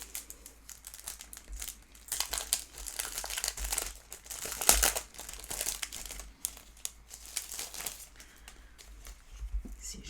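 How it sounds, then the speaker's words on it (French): Self-adhesive glitter sequin stickers crinkle and crackle as they are peeled and handled, a close, continuous rustling with sharper bursts of crackle in the middle and no talking. "je vais mettre celle-ci, les séquins pailletés autocollants"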